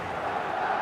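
A big football stadium crowd at a Madrid match keeps up a steady, loud roar of shouting and calling, a dense wash of voices at a distance.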